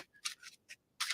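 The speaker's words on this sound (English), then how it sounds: "How many times do you want me to shuffle the deck?" A deck of tarot cards is riffled in quick, crisp bursts, four or five short papery flutters close by and fairly quiet, with no talking.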